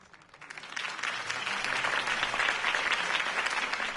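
Steady crowd applause in the Telltale Batman video game rises quickly and holds as a dense, continuous wash of clapping, with no talk over it.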